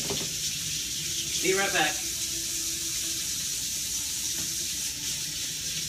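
Tap water runs steadily at a sink as bacon grease is washed off a cutting board, a constant close hiss with a brief spoken remark over it.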